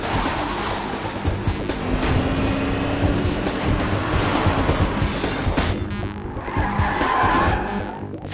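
A car speeds and skids with loud, sustained tire squeal and engine roar during a chase scene in a Hindi-dubbed action movie, filling the scene without speech.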